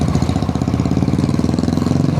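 A Royal Enfield Classic 500 motorcycle engine runs steadily and close by, its deep single-cylinder thump pulsing in an even, rapid rhythm throughout, loud and without talk.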